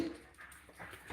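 A dog named Benny gives a faint, brief whimper close by in a quiet kitchen, a soft whine lasting about a second.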